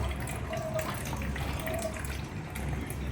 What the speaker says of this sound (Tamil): நான் இப்போ வந்து கேன் வாட்டர் நான் ஃபில் பண்ணிக்கிறேன்